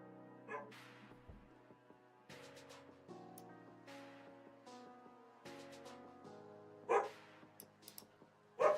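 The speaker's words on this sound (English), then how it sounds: "Dog's barking at me." Dog barking a few times in short separated bursts at a moderate distance, partly buried under steady game music and ambient noise.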